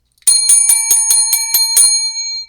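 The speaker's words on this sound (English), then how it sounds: "Ring your bell." Bicycle bell rung in a quick series of about eight bright metallic dings, evenly spaced and loud, ringing on briefly after the last strike, with no voices.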